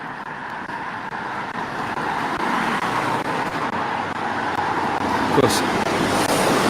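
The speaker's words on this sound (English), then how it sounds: "we've now got the traffic" Steady road traffic rumbles past on a street in Devizes, Wiltshire, a continuous near wash of car and vehicle noise with a brief voice over it.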